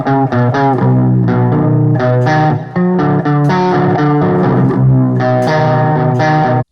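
A Guitar Hero controller converted into a working electric guitar plays a quick, loud run of picked chords and notes with a clean tone, the rhythmic strums steady throughout with almost no pauses.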